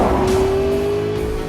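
A McLaren P1 race car in Forza Motorsport 5 holds a steady, loud engine drone with a sustained rising whine, tyres hissing underneath, continuous across the moment with no voices.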